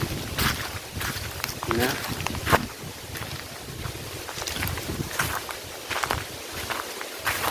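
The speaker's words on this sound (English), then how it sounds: "there is a lot of wind" Gusty wind buffets the microphone outdoors on a village hiking trail, with footsteps crunching and a brief spoken word over the rumble.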